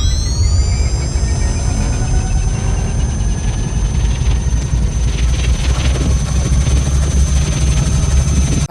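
Proton pack from Ghostbusters: Afterlife powering up: a loud, steady high-pitched whine with a dense, rumbling low drone underneath, holding continuously for several seconds without talk.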